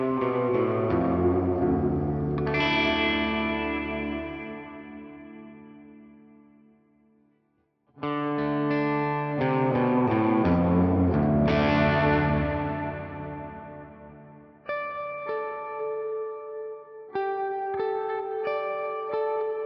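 An electric guitar runs through a Fractal AX8 cavern reverb: distorted chords ring out into long, washy tails that fade almost to nothing, then return with fresh strums and sustained single notes, all loud and close with no talking.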